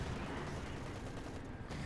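Artillery and gunfire in Company of Heroes 2 match with a Panther, a dense continuous rumble of distant booms and crackling shots, steady and muffled at low volume with no talk.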